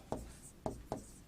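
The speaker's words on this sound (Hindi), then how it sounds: "तो इन्हें मैं यहां नोट लगा के लिख रहा हूं" Three short scratchy strokes of a teacher writing notes on a board, each a quick rasp followed by a brief pause, close and fairly quiet in an otherwise silent room.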